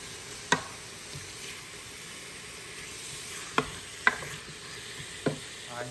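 Meat browning in a pan for charro beans, a steady close sizzle with a few sharp scrapes or stirring knocks spaced several seconds apart, no talk.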